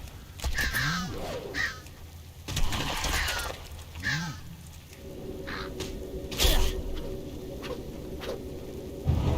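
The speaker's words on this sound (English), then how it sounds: "I gotta kill this crow." Crow caws in World of Warcraft, several harsh calls repeating at moderate volume through the clip, with other game sounds, patter and a steady tone layered behind.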